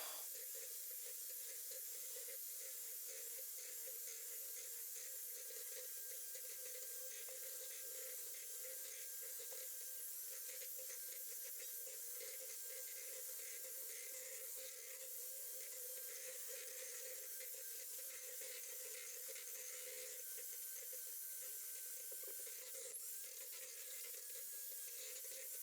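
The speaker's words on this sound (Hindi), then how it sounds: "अब इसको बीट करती हूँ। फुल बीटर आपने चलाना है इसको।" Electric hand beater running at full speed through one cup of chilled whipping cream, a steady continuous whirring hiss with no pauses or speech.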